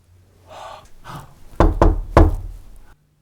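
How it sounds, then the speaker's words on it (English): Several sharp knocks on a door or wooden surface, a close pair followed by a louder single rap, after faint breathing and gasps in a quiet indoor space. "Knock 2 times to cancel out the first one."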